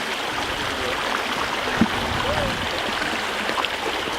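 River water flowing over rocks, a loud, steady broadband rush close by with a few faint splashes and a brief voice underneath.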